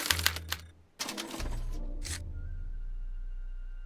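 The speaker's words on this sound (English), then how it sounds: "they're relayed to this special typewriter, which prints out a punch card that represents the subject's mind map" A special typewriter in Back to the Future: The Game prints a punch card, giving bursts of rapid mechanical clacking separated by brief gaps, followed by a low steady hum.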